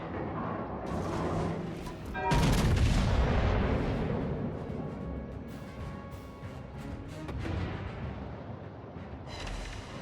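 British battleship guns fire HE shells in World of Warships with a heavy, booming blast that rumbles on for a couple of seconds, then softer distant thumps, over constant engine and sea noise.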